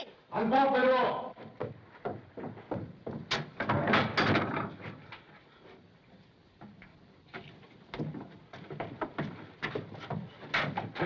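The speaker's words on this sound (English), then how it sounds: "Unbolt the door." An old door is unbolted and opened in a 1930s circus mystery film. Several sharp clicks and knocks of the bolt and latch come after and between spoken dialogue.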